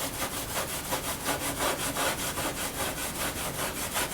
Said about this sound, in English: steel wool working on this top, and there is still a lot of crud right here